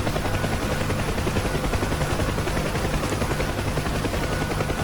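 A battle-damaged aircraft comes in to land in the DCS 2.9 flight simulator, with a loud, steady engine and rotor roar that thrums without pause the whole time and no talk.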